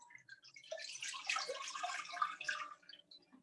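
Water pours steadily into a pot for Mexican hot chocolate, a running, splashing stream that swells through the middle and eases off near the end, with no talking.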